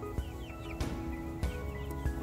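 Young Wyandotte chickens clucking and chirping softly nearby, with a few sharper calls and scuffs over a steady outdoor background hum.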